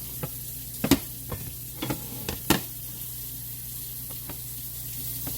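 Gravy stirred in the frying pan the meal was cooked in, with a low steady sizzle under a series of sharp scraping and clinking strokes that fade out over the second half.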